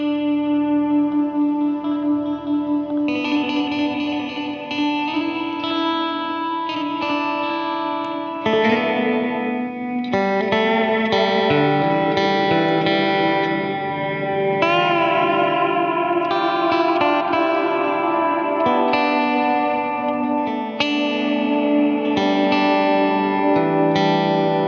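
A sustained instrument drenched in large convolution reverb from an Integral Dual Convolver pedal, with its position knob adjusted, gives a lush, washing tail. Notes change every few seconds, loud and continuous.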